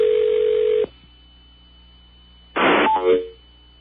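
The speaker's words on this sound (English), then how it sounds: "Then you hear what the listeners hear when the phone picks up, which is kind of a weird noise" A radio station call-in line picks up: a sharp electronic tone burst cuts off into a quiet hum, then a second harsh noisy burst with a brief beep follows, all loud and alone.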